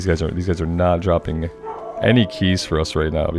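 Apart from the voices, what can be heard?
dog barking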